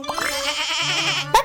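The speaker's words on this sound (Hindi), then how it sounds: "बकरी।" A goat bleats loudly and close by in one long wavering cry, followed by a brief sharper sound at the end.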